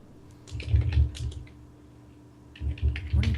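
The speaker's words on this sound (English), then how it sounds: "What are you typing?" Typing on a computer keyboard: two close bursts of rapid key clicks separated by a quiet pause, with a faint steady hum underneath.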